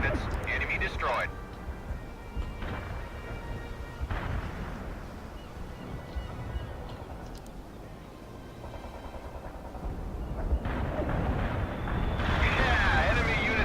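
Artillery strike explosions in World in Conflict: heavy deep booms and rumbling blasts rolling on and off, mixed with radio-style voices talking over them.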